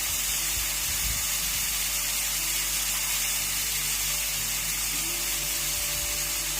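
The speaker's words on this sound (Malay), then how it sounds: "Okey, jadi kita biarkan wap tu terus keluar dan tunggu sebentar ya." Steam escapes from a pressure cooker as a steady, even hiss that fills the whole stretch, fairly close, with a faint low hum underneath and no voices.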